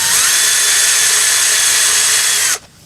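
A power drill drives screws into a basement window frame with a loud, close, steady high-pitched whine for over two seconds, then cuts off abruptly into quiet room noise.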